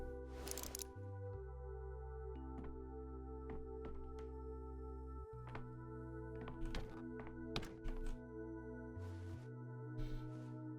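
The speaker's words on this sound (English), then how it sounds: "Dankovsky is banging his head against closed door." A character in the game Pathologic 3 bangs his head against a closed door, giving a series of soft, irregular thunks over a sustained low musical drone, with no talking.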